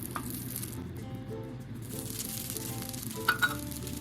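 Garlic pepper steak sizzles on a hot plate, a steady close, moderate frying hiss running throughout with a couple of brief clinks near the end.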